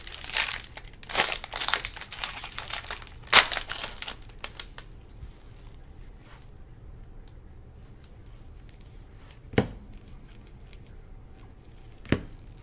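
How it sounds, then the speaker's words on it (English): Packs of 2019 Bowman baseball cards are ripped open, with close, busy foil crinkling and tearing at first that fades to a few sparse rustles and snaps. "Something relaxing about ripping a case of Bowman."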